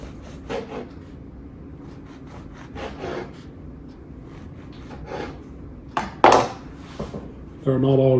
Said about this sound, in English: We'll drop these on a sheet pan over here.